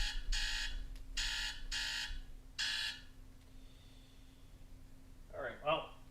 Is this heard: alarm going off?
yes